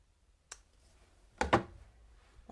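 A pair of scissors snips a decorative ribbon bow shorter for a card project: a faint tick, then two sharp close cuts in quick succession, and a soft final click, in a quiet room.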